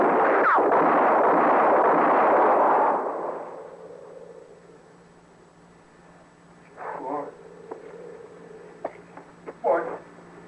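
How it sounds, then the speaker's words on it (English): A radio drama gunshot effect: a loud, close burst of noisy rumble dominates the first few seconds and fades out, followed by quieter stretches where a voice groans and speaks in short outbursts. "she went and shot me, Mort."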